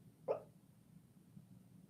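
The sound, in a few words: dog Lilac barking in her sleep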